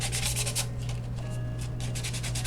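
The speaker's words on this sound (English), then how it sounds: "I'm going to sand it a little bit because it's hard to get paint to adhere to plastic" Plastic pumpkin from a dollar store being sanded by hand so paint will stick, giving a continuous scratchy rubbing with short back-and-forth strokes, close and steady, with no talking.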